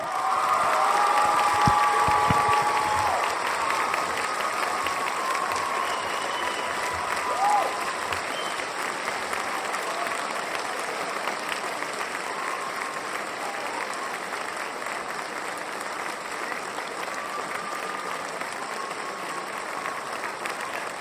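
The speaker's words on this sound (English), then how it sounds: "A round of applause for Dr. Charles Thomas Cayce." An audience at a talk on Edgar Cayce breaks into sustained applause, a dense, even wash of many hands that swells at the start and carries on steadily for about twenty seconds, with faint crowd murmur and a brief voice early on.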